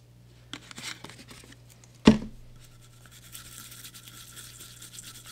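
Toothbrush scrubbing residue off a solder pad with isopropyl alcohol, a faint soft bristle scratching with one sharp tap partway through, quiet and close.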